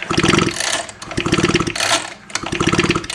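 Three quick pulls on the starter cord of a dead, non-starting Stihl FS56 string trimmer, each a rapid ratcheting churn of the engine turning over, separated by short pauses. The sound is close and loud, with no voices.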